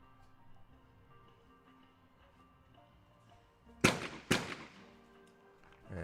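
A junior skeet shooter firing a shotgun in quick succession, two sharp loud blasts about half a second apart, each followed by a short echoing tail over quiet outdoor background.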